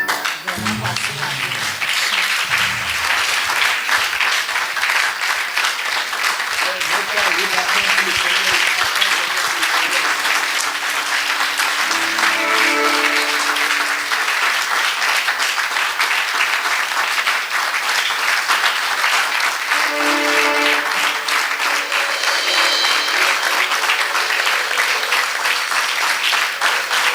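A church congregation at a Sunday service breaks into loud, sustained applause that fills the room for nearly half a minute, with voices calling out and singing over the clapping.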